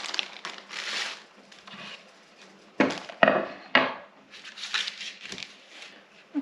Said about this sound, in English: And I'm going to slice it into like bite-sized pieces.